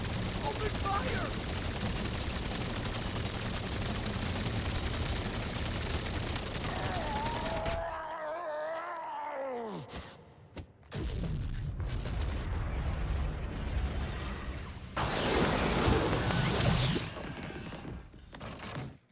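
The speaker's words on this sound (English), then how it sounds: "Now all you need to do is open fire, and Mephistopheles is defeated as he blows up." Sustained heavy gunfire in the IW Zombies Beast from Beyond video game, dense and continuous, cut off by a descending whine and a booming burst as Mephistopheles blows up, followed by scattered thuds and a loud rushing surge.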